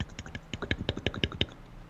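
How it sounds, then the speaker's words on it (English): Typing on a computer keyboard, a steady rapid run of close, crisp key clicks for about a second and a half before stopping. "this is me typing"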